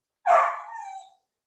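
A single dog gives one short, loud yelp close by, rising sharply and trailing off into a thin whine, with no voices.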